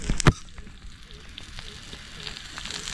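Sizzle of oil hitting a hot stone slab outdoors in a forest for an egg omelette, a sharp burst near the start settling into a steady, close crackling fry with no talk.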